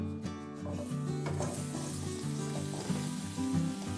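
Pieces of marinated paneer sizzle and crackle steadily in hot oil, a close, continuous frying hiss with small pops throughout.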